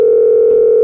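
A telephone dial tone sounds after a call is hung up: one loud, steady, unbroken hum heard on its own.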